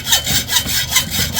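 Hand-sawing a small steel piece for a Yamaha Sniper 155R tensioner, with about four quick, rhythmic back-and-forth rasping strokes close up.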